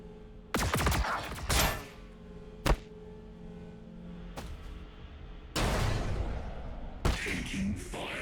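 Missile strikes called in by a T'au commander in a Warhammer 40,000 battle game: several loud booming impacts and whooshing blasts at irregular intervals over a low rumble, with a dense barrage near the end.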